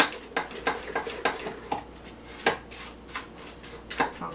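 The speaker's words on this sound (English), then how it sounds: "Now I'm going to just clean the sides of my bowl here. Get to the bottom with my spatula where it tends to stick." A spatula scraping the sides and bottom of a mixing bowl of creamed butter for Italian sprinkle cookie dough, a series of short, close scrapes and taps in an uneven rhythm, with no talk.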